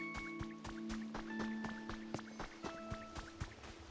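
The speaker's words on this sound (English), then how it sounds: "There's this water mill." Water running at a water mill in a Pokémon game: steady stylized drips and splashes repeating in a regular rhythm under sustained musical tones, moderately quiet with no talking.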